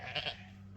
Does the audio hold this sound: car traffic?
no